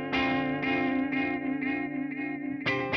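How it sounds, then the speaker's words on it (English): Electric guitar played through a delay effect in a preset demo, sustained chords ringing with repeating echoes that stack and smear as the feedback repeats deteriorate, a fresh strum cutting in near the end; loud and close, no talking. "Where the delay repeats are deteriorating."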